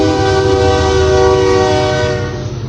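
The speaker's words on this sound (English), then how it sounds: "Excuse me, the train is coming" A train passing close by on a railroad track blares a loud, sustained horn with a rich steady chord over low rumbling, fading slightly toward the end.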